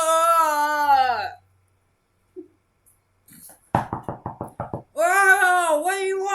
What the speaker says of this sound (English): Shall we knock on the door?